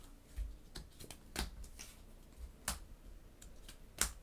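Cards being discarded and drawn during a Marvel Champions tabletop game, heard as scattered soft snaps and slides of card stock, several brief close clicks spaced irregularly with no talk.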